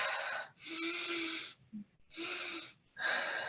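Full breaths taken and let go in a guided breathing exercise: four strong airy rushes of breath, close and loud, each lasting about half a second to a second, with brief quiet gaps between them.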